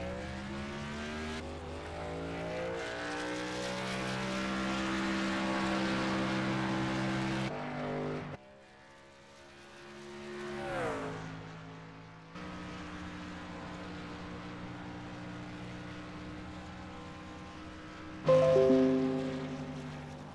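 Race truck engine in a sim racing game lapping Daytona speedway during qualifying, a loud sustained drone with rising pitch through the gears, a sharp drop and brief lull midway, then the steady roar resumes.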